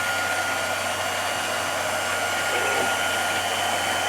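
A belt-drive converted cutting machine running with a steady, continuous whirring hum and broadband hiss, constant in level throughout with no talk.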